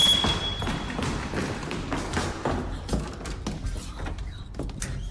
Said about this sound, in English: door suddenly swings open on its own and Sandra is spooked